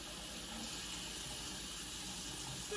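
Tap water runs steadily into a measuring cup, a continuous, fairly loud hiss and splash with no talking.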